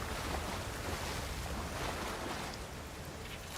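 Steady, faint rushing of a waterfall in the fantasy game Avowed, an even broadband wash of water noise with no breaks, heard alone at a distance.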